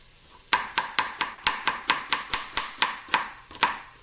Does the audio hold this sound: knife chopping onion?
yes